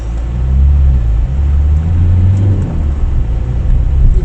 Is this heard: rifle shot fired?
no